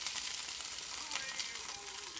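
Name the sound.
basil leaves being mixed in tomato sauce in a pan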